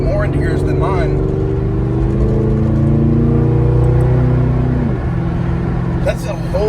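A Ford Crown Victoria accelerates hard under heavy throttle. The engine drone climbs steadily and loudly, shifts once, then settles, with brief voices near the start and the end.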